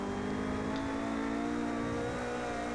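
A high-downforce race car in Project CARS powering out of a slow corner, its engine droning loud and steady as it builds speed, with no voices.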